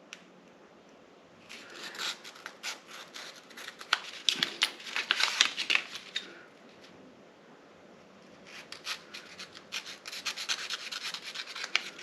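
A package holding new bellows for a Wista 45N camera is carefully opened, giving soft rubbing, crinkling and rasping of wrapping in two busy bursts separated by a quieter pause, faint and close.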